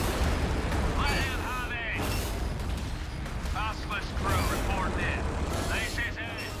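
Basilisk artillery firing in Warhammer 40k Gladius, dense booming blasts and rumbling impacts layered with mechanical clanks and whooshing effects, loud and continuous.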